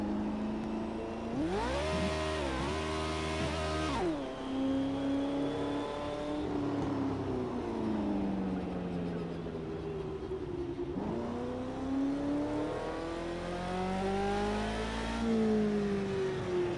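F1 car engine in the game Project Cars 2 revving loudly and continuously, climbing and dropping in pitch through repeated gear shifts, close and steady throughout.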